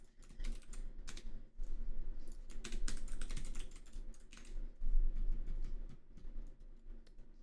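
Fast, uneven clatter of keys on a computer keyboard, close and clear, in irregular bursts with brief pauses between, and no talking over it.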